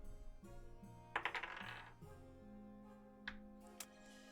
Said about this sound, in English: This is the one time I'm going to let dice decide.